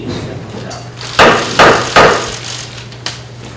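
Chairman's gavel struck on a table to open a party leadership meeting: three loud, sharp wooden knocks in quick succession, then a lighter fourth tap, over a quiet room hum.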